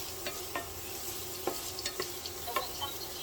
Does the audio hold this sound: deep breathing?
no